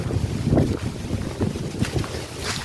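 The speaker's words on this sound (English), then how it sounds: "A lot of breeze." A strong breeze rushes through trees on a village hiking trail where dry branches are falling, making a continuous blustery roar with rustling leaves and gusty buffeting close to the microphone.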